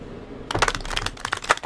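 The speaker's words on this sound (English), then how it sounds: "I'm trying to shuffle these a little bit off camera so that it's not super loud when I shuffle for you" Tarot cards riffle and flick in quick, uneven bursts as they are shuffled off to the side, a soft, close papery clatter with no talking.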